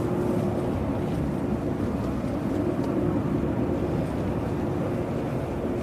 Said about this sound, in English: we've got a Logan Air now that's looks like it's about to taxi